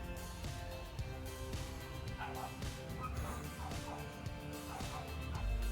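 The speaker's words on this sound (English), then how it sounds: "My neighbor's dog is barking" A neighbor's dog barks in the distance in faint, repeated bursts, heard faintly through indoor background hum.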